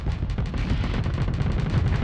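Ship weapons firing in the Starsector space combat game, a rapid, loud, continuous barrage of booming gunfire shots that repeat steadily throughout with no pauses.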